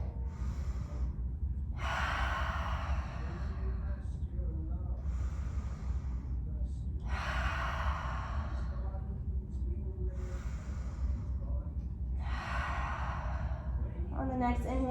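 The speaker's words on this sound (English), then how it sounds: "Taking 3 cleansing breaths. Breathing in through the nose," Three cleansing breaths during a beginner yoga class, each drawn in through the nose and let out through the mouth. The breaths come as slow, evenly spaced bursts of close, airy breathing over a low steady hum.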